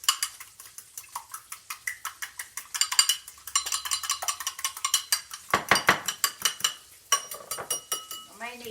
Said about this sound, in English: I'm going to beat that egg up. Just beat it up a little bit.